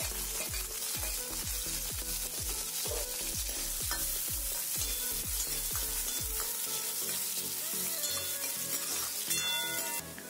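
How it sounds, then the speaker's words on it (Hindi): Capsicum fries in hot oil in a kadhai, a loud continuous sizzle with rhythmic scraping stir strokes about twice a second that stop partway, leaving the steady crackle alone. "तेल अब गर्म हो चुका है तो अब हम इसमें डाल देते हैं शिमला मिर्च।"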